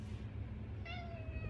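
A pet cat lets out a single clear drawn-out meow near the end, fairly close, over a steady low background hum.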